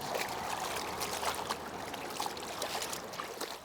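Cold river water flows and splashes around workers standing in it stripping hemp, a steady close trickling and swishing with scattered irregular splashes of moving hands and fibres, no voices.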